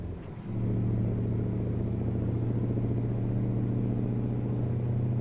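Mack truck engine in American Truck Simulator, heavy low diesel drone booming inside a tunnel, rising in after a brief quiet start and then holding loud and steady, with no talking.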